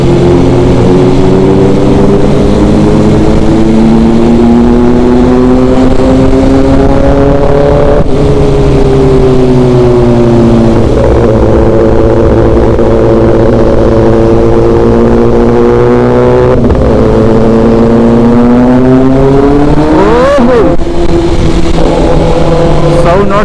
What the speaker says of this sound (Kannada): ಸೌಂಡ್ ನೋಡ್ರಪ್ಪ 10Rದು